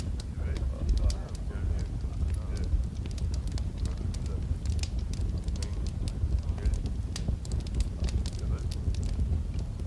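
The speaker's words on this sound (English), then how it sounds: "The crackling fire" A crackling fire burns outdoors at sunset, with sharp pops and snaps scattered over a steady rush of wind noise throughout.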